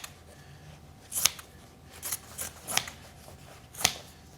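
Scissors snip through an old pair of denim jean shorts in several separate crisp cuts, sharp and close, with quiet pauses between them.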